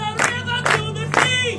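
After a film screening, an audience shouts in three evenly spaced loud bursts, like a chanted call repeated over a constant crowd din.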